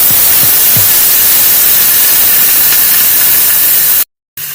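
Cold ground beef hitting a hot pan for spaghetti, a loud, dense sizzle that roars continuously close up, then cuts out abruptly near the end.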